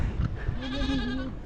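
A goat bleats in a long, wavering call outdoors on a rocky hillside in Almería, loud and close, with faint wind and rustle around it.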